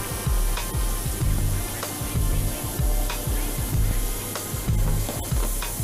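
Broccoli and corn stir-frying in an oiled pan, loud sizzling with repeated rhythmic scraping and tossing strokes, close and alone without talk.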